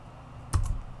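A single tab key press on a computer keyboard, a short close click with a soft thud, standing alone against faint background hiss.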